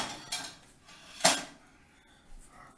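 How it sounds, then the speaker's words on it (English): Metal tongs drop into a skillet with a sharp clang and rattle, one bright impact in the middle amid faint kitchen clatter, fairly quiet overall. "My tongs fell in my skillet."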